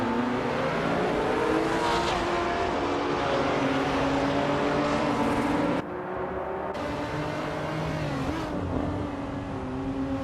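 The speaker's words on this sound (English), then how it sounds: "Laura Biolab is driving a 2019 Ginetta G55 Super Cup." A 2019 Ginetta G55 Super Cup race car engine in a video game, loud high-revving drone with shifting pitch, briefly cutting out near six seconds before resuming and accelerating again.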